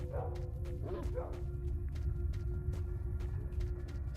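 Dogs in S.T.A.L.K.E.R.: Shadow of Chernobyl give a few short yelps and barks early on, mid-distance, over a steady low rumble of game ambience with faint clicks.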